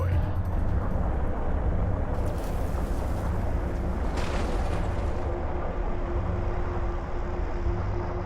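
A cruiser is destroyed in the real-time strategy game Homeworld: Deserts of Kharak, giving a loud, sustained rumbling blast with bursts of crackle and debris noise over a continuous low battle drone.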